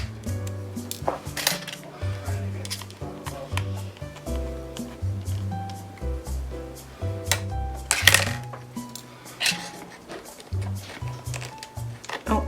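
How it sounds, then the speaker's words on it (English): Small screws clink and rattle as they go back into an iPod back case, with scattered bright metallic ticks and taps over a low musical backing, under a speaking voice. "So I'll just put all the screws back in the back case."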